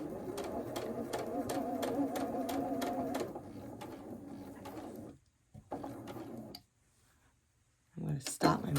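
A sewing machine stitches a scant quarter-inch quilt seam for a Y-seam Civil War sampler block, its rapid even whirring running steadily for about three seconds before slowing and stopping, followed by quiet handling and a brief talking voice.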